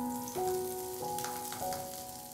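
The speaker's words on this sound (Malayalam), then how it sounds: "ബ്രെഡെല്ലാം ഒന്ന് ടോസ്റ്റ് ചെയ്തെടുത്തു കഴിഞ്ഞാൽ വീണ്ടും വേണ്ടത് അതേ തവയിലേക്ക് തന്നെ നമുക്കൊരല്പം ബട്ടറും കൂടി ചേർത്ത് കൊടുക്കാം" Butter sizzles steadily on a hot tawa after bread has been toasted on it, a soft continuous crackle and hiss with faint ringing tones underneath, close and quiet.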